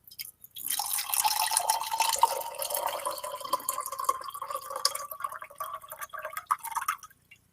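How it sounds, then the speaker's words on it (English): Water poured out of a container with hydrogel spheres inside, giving a steady splashing, trickling stream close by for several seconds before it stops abruptly. "If I pour the water out"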